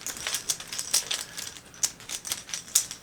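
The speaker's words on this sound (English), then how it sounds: "David's going to put the tokens back in the bag." Board game tokens dropped back into a bag, giving a string of small light clacks and rattles, close and fairly quiet, with no talk.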